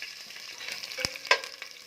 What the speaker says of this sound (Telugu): పచ్చిమిర్చి మెల్లగా ఫ్రై చేసి మీద పడుతుంది